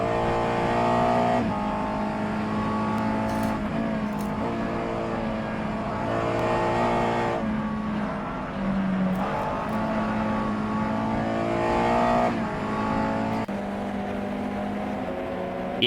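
A USF2000 open-wheel race car engine in a racing sim at the Bikernieki track, droning loudly and continuously as it revs up and down through repeated gear shifts over about sixteen seconds with no talking.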